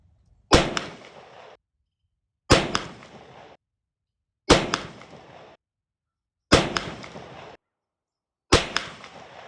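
A shotgun fires Winchester Super X shells through a Carlson's rifled choke: five loud, sharp blasts, evenly spaced about two seconds apart, each trailing off in a brief echo, with silence between.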